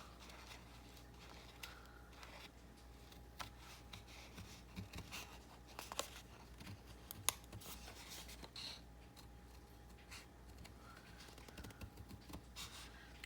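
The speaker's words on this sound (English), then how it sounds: "all I'm going to do is almost cut a circle" Scissors cut a half circle out of paper for a junk journal pocket, giving faint, scattered snips and soft rustling scrapes with a couple of sharper clicks, close and quiet.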